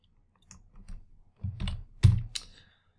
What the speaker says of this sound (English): So I've just clicked on cell G7, keyboard shortcut Control-Shift down arrow